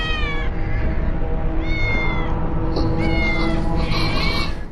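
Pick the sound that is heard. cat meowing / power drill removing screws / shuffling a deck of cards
cat meowing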